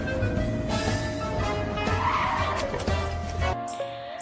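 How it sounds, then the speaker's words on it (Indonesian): A car braking hard from speed, tires skidding and squealing in one sustained screech over engine noise, loud and close, ending abruptly. "Seperti pada saat mengendarai mobil dengan kecepatan tertentu, kemudian tiba-tiba memberhentikan mobil tersebut."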